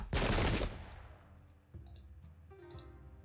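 Musket volley in Sengoku Jidai: Shadow of the Shogun at the Battle of Nagashino: one loud, dense burst of gunfire, then scattered fainter shots and clicks over soft battle ambience.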